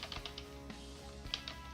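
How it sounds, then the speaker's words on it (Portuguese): Quick, irregular clatter of fingers tapping random letters on a computer keyboard, close and light, a few bursts of keystrokes over a steady low hum. "a gente vai no teclado, digita aleatoriamente algumas letras"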